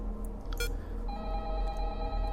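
A phone ringing in the game Five Nights at Candy's 2, a steady electronic ring tone starting partway through and sustaining over a low droning background hum, with a couple of brief sharp clicks before it.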